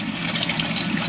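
Water flowing into the top tray of a plywood aquarium sump, a steady close trickle and splash that runs without pause for about a second.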